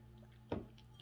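A single brief sip of water taken close to the microphone, a short wet slurp that rises out of a quiet room and fades within a fraction of a second.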